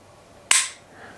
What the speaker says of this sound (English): So you pull that trigger